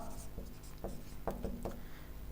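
Pen or chalk scratching across a page during a maths geometry lesson, a few short quiet strokes in a steady rhythm, close and faint, with no talking.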